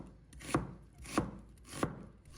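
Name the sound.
knife chopping half an onion into strips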